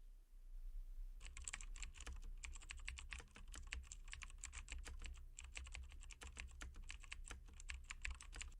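After a second of quiet, someone types code on a computer keyboard in a fast, steady run of close keystrokes with brief pauses. No voice is heard.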